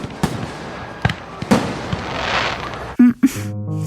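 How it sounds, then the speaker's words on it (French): Fireworks set off to close the last day of a seaside bathing season, with sharp bangs and crackling bursts at irregular moments, a dense hiss of crackle in the middle, then several loud booms near the end. "il y avait même un feu d'artifice pour conclure cette dernière journée de baignade"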